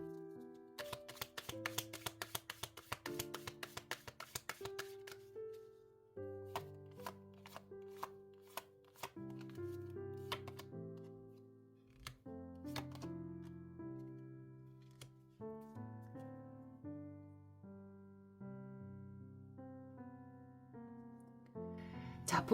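Tarot cards being shuffled and drawn produce rapid crisp snaps and flicks, first in a dense burst and then as sparser taps, over soft melodic background music.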